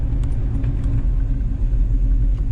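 A car spins its old, hardened tires on a cold surface, producing a constant loud engine rumble with a fluttering low roar and no voices.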